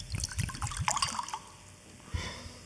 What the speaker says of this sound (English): Frankenstein rubs it on her sleeve before pouring the wine in